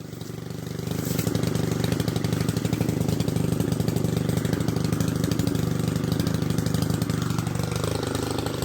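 A mowing machine's engine starts up and settles into a loud, steady mid-pitched chug with a rapid rhythmic pulse, running continuously through a grounds-keeping demonstration.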